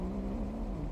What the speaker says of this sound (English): Mortimer's not a happy cat.